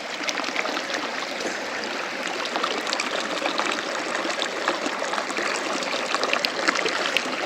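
A mountain stream on the Pangarchulla trek rushes and trickles in a steady, loud flow as drinking water is filled from it, with no talk over the sound.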